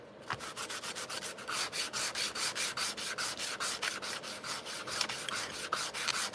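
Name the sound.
sanding biodegradable paint on a paper model stand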